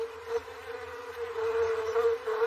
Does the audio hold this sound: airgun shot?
no